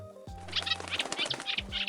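Winged creatures flap past in a bow-shooting minigame in Fear and Hunger, quick repeated fluttering wingbeats in short bursts over low tonal game music, close and clear.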